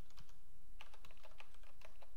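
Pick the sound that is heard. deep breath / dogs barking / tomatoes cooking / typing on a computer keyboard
typing on a computer keyboard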